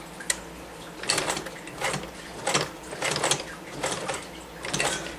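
A sturdy metal sewing machine stitches over a thick jeans seam during hemming, its needle mechanism thumping and whirring in uneven bursts as it works slowly through the heavy fabric.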